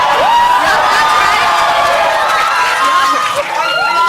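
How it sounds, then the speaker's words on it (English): Half of a crowded room of students cheers loudly for a team at a class presentation event, a sustained wash of whoops, shouts and excited voices that stays strong throughout. "this half of the room, it's gonna be cheering for Lisa, Team Red."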